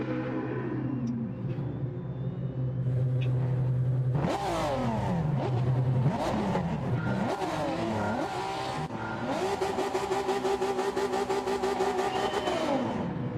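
Japanese race cars in a Clio Cup racing game roar around the track, engines loud and close, pitch climbing and dropping through repeated gear changes, with a sustained high-revving blast near the end.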